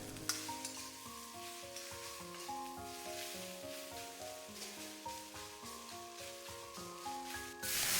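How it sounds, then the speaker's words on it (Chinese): Fish frying in a pan over low heat gives a soft, continuous sizzle that sits quietly beneath louder background music throughout. "捣碎完继续小火煎，煎得越熟透，熬出来的鱼汤就会越浓白鲜美"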